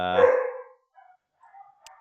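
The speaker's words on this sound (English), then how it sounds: "so the dogs are going off" Dogs bark at an event down the road: one loud, close bark opens, followed by a few faint, scattered yips and distant barks.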